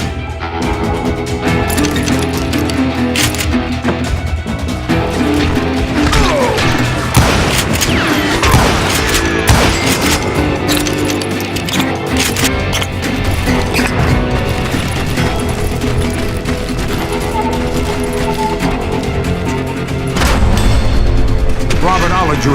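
Double-barrel shotgun blasts in the Western shooter Call of Juarez Gunslinger, heavy booming shots mixed into a loud, continuous chaotic gunfight with crashes and music, and a narrating voice over it.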